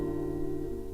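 A guitar chord fretted with the ring finger on the B string rings steadily and alone, a brief sustained strum with no talking.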